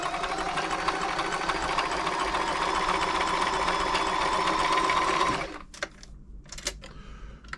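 A Frister & Rossmann 904 sewing machine running a zigzag stitch, a fast, steady mechanical whir and clatter for about five seconds that stops abruptly, followed by a few quiet clicks and knocks.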